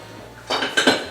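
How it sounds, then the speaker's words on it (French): A pasta machine is put away in a kitchen cupboard, clinking and clattering against dishes and metal pieces in two or three quick knocks over a low background hum. "Là, je vais ranger la machine à pâtes."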